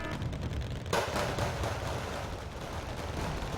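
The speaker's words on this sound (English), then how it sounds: "the automatic fire on the FOB was a big waste of ammo" Sustained automatic gunfire in the Wargame: Red Dragon battle, a dense crackling barrage with a sharper burst near the start, continuing steadily under a constant roar of battle noise.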